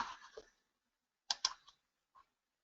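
A few quick, quiet clicks of computer keyboard typing, a short cluster of keystrokes followed by a lone tap, close and faint in an otherwise silent room.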